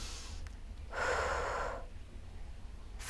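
During a Pilates workout, a person takes one distinct, audible inhale through the nose or mouth, lasting about a second. The breath is close and alone against a quiet room hum.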